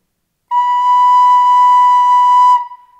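A recorder-like wind instrument sounds a single held note B, clear and steady for about two seconds, after a moment of silence, then fades out with no talking.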